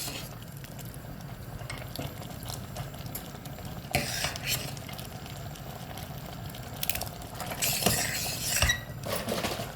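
A spoon stirs vegetarian rice and curry in a pot with repeated scraping and clinking against the metal, loud and close, with a sizzle underneath and no talking.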